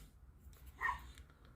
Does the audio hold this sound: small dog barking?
yes